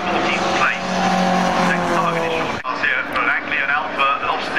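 Historic saloon race cars, including a Mustang and a Galaxy, scream past in a close pack at Brands Hatch, the engines loud and rising in pitch with a brief tyre squeal, while a commentator talks over them.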